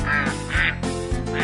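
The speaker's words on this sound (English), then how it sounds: "We'll be right back after Bob gets the ducks out of his living room." Ducks quack loudly and close in a quick cluster of calls, used as a radio sound effect.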